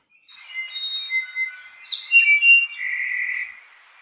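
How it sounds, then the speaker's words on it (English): A solitaire bird's recorded call rings out alone: clear, high, flute-like whistled notes that glide and hold, one running into the next over a few seconds. "And this one is a solitaire."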